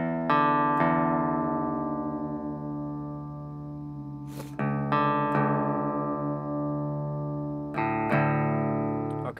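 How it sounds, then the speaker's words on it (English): Plucked guitar notes ringing out and decaying, struck three times; the low E string's pitch slides down to drop D between plucks, with no voices. "we're going to want to detune the big string down to the same sound as the open D string"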